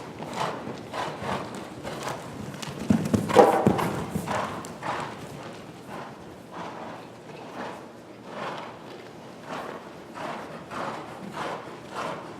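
Horse trotting in an arena during a riding lesson, a steady two-beat clip-clop of hooves repeating throughout, moderately close, with a heavier thud near the start and a faint instructor's voice in the background.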